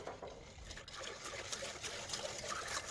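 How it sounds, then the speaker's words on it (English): Whisking a teriyaki marinade with ginger, a faint, steady wet swishing and light clicking that runs continuously without pause. "So I'm going to whisk this together."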